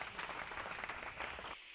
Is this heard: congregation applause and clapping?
yes